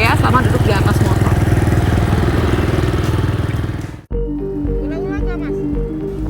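A motorcycle ridden at about 20 km/h with a partition fitted for an online ojek gives a steady, close engine drone and wind rush, then cuts abruptly into a quieter scene where someone talks over a faint background hum.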